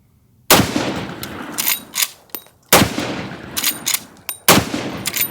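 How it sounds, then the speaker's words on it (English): Three unsuppressed supersonic shots from a .45-70 lever-action rifle, each a loud, sharp crack followed by lever-cycling clacks and metallic clicks, spaced about two seconds apart with no talk. "We're gonna do 3 rounds of supersonic, unsuppressed."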